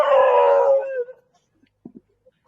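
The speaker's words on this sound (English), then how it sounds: "it's funny that the dogs seem to be the current theme in the background of questions" Dogs howl and yip in the background for about a second, a drawn-out wavering cry that trails off, followed by a few faint, scattered thumps and taps.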